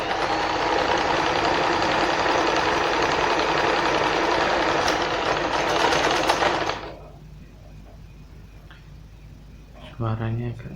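Janome 1122 EX sewing machine stitching with a steady, loud mechanical whir and rapid needle rhythm for several seconds, then stopping abruptly, followed by quiet room tone and a brief voice near the end.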